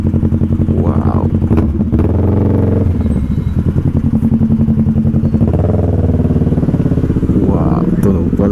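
A big bike motorcycle engine, believed to be a Kawasaki Ninja 400, rumbles loudly and close throughout, with rising revs as it passes in traffic; a voice speaks over it.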